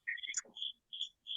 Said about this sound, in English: you probably hear the crickets